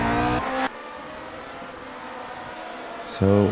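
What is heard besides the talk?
Lotus 49 race car engine in video game Grand Prix Legends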